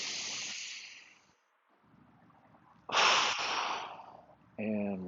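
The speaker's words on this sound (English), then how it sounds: "Big breath in." Deep inhaling breaths during a breathing exercise: a long airy intake fades out, then after a quiet pause a second strong rushing inhale swells, followed by a brief voiced sound at the end.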